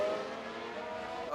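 A Formula 1 car spins out in the F1 Manager 2022 racing game at Bahrain, with a steady engine whine and tyre noise that hold loud and close through the brief moment.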